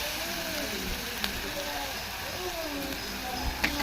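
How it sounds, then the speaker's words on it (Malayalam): Onions sautéing in a pan for chicken stew make a steady, dense sizzle that runs throughout, with a voice talking over it. "ഒന്ന് നമുക്കിതൊന്ന് നന്നായിട്ട് വഴറ്റി കൊടുക്കാം."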